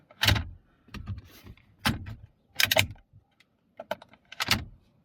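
Rear cup holder of a BMW F10 5 Series being pressed shut by hand, giving a handful of sharp plastic clicks and clunks spaced about a second apart, close and fairly loud with quiet gaps between.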